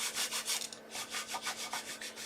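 A paper card piece is rubbed down by hand in a series of quick, rhythmic scratchy strokes, close and fairly quiet, with a steady faint hum underneath and no talking.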